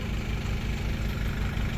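A tractor engine idles on a homestead with a steady low rumbling throb and regular pulsing beats, close and continuous with no voices.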